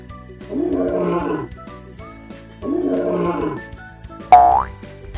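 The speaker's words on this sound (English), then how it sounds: "Lion says, roar," A lion's roar played twice, each a low, rumbling growl lasting about a second, separated by a short pause and followed by a bright cartoonish boing chime.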